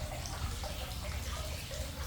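A drink pours from the bottom tap of a wine and drinks backpack, a steady close trickle of liquid running without a break.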